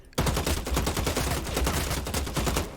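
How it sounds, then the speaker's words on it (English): Sustained automatic gunfire in a shooter game starts abruptly and continues as a rapid, evenly spaced stream of loud shots for nearly three seconds without a break. "I've loaded him full of bullets."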